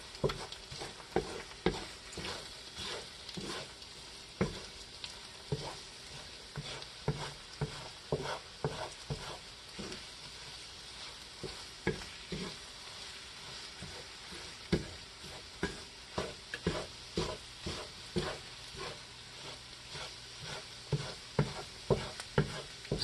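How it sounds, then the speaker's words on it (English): Eggs scrambled in a hot, oiled cast iron pan: a long run of rhythmic spatula scrapes and taps against the iron, close and steady, over a soft continuous sizzle. "Then I just go ahead and scramble them the way that I normally do."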